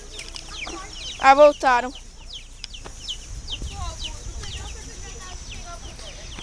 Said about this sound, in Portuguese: A gente tá tentando pegar um pintinho faz tempo.